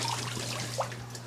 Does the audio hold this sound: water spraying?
yes